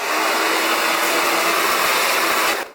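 A hair dryer on medium speed and medium heat blows steadily and loudly for nearly three seconds, with a constant airy whoosh and motor whine, cutting off abruptly at the end.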